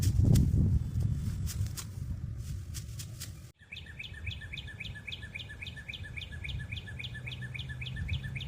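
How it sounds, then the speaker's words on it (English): A small bird chirps overhead in a spring garden, a quick run of bright, evenly spaced chirps repeating steadily after a stretch of rustling and footsteps. "I've got a little bird up above who is she's trying to say hi"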